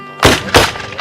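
Two sharp, booming reports from Civil War rifles fired by reenactors, about a third of a second apart, each loud and close with a quick decaying tail.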